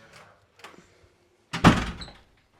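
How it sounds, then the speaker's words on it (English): A door pushed shut indoors ends in one solid thunk, preceded by a few faint shuffles and clicks; close and fairly loud, no voices. "So actually I'm just going to close this door."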